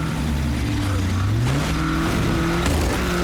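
Car driving in the video game State of Decay 2, engine humming and shifting pitch as it accelerates, a steady loud motor drone with no talking.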